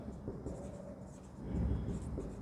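A pen scratching steadily across paper while working a Class 11 accounting ledger problem, close and continuous with soft strokes.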